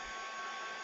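A heat tool set on low drying acrylic paint gives off a steady, even blowing whoosh that runs at constant loudness the whole time, close by, with no voices.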